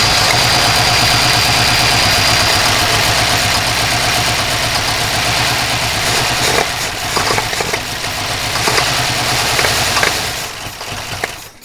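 A 1978 Pontiac Trans Am, a barn find that sat for 30 years with a gummed-up carburetor, cranking without fuel: a loud rhythmic starter churn for several seconds, then uneven sputters and clunks as it fails to catch.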